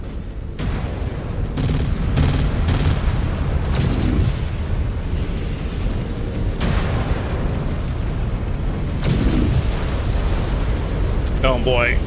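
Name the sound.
missile explosions in MechWarrior 5 Wolves of Tukayyid video game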